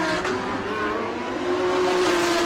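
Race cars including a Lamborghini run on a street circuit, a steady loud engine drone holding and swelling slightly as cars pass nearby.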